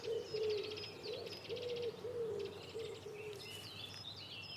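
A stock dove cooing in woodland, a series of soft, low, repeated coos in a steady rhythm, with small birds chirping faintly in the background.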